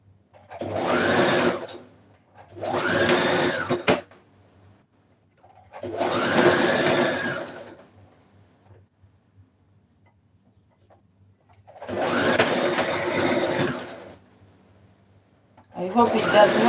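A sewing machine set to a short stitch length runs in four separate bursts of rapid mechanical stitching through blouse fabric at a cowl neck, close and fairly loud, with quiet pauses between runs.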